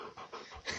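Dogs pant close by in quick, rhythmic breaths, a short run of breathy huffs indoors as they come in.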